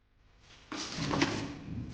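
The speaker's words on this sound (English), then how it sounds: "My little human, will you please open this lovely door for me?" A door slides open with a soft scrape, then a steady rumbling glide that holds for about a second, close and moderately loud with no voices.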